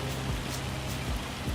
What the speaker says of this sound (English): now that it's raining